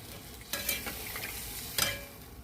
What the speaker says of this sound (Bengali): আমি এই মাছগুলো, ইলিশ মাছগুলো ছেড়ে দিচ্ছি।